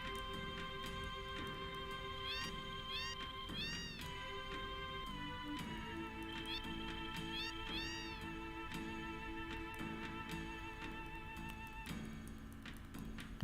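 Cats meowing inside a house in Final Fantasy VII, rising game-voice mews that recur several times over steady layered background music.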